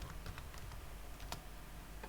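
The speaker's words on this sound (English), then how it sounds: "you simply press Ctrl and press the plus button on your keyboard" Faint, irregular clicks of typing on a computer keyboard, scattered taps at uneven intervals over a steady low background hum.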